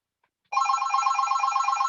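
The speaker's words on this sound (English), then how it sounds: "even when the phone rings" A telephone rings suddenly after half a second of silence, a bright continuous warbling bell tone that stays loud and steady to the end, alone with no talk.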